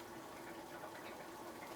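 A thin, steady stream of liquid trickles continuously while making simple syrup, a soft, even pouring wash that holds constant and close throughout, with no talk.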